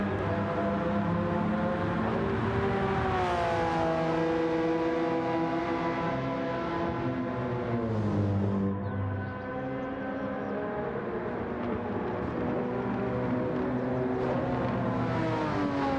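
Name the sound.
Porsche 996 GT3 Cup car racing in Gran Turismo 7 video game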